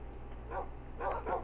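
Bred tame wolves in Minecraft on PlayStation 4 give a couple of short yipping barks, soft and somewhat distant over a low steady hum.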